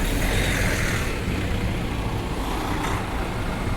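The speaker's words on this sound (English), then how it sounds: "I got a big truck turning here, I better stay out of the way" A big truck turning through city street traffic rumbles close by in a continuous, fairly loud engine drone over broadband roadway noise, with no speech.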